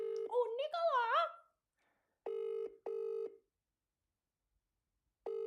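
An outgoing phone call rings back in short, evenly spaced electronic tone bursts separated by silence, after a brief voice at the start.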